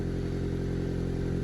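Steady idle of a lowered ES1 Honda Civic with a freshly welded exhaust, a constant close-up engine drone with a faint ticking leak rattle running evenly throughout.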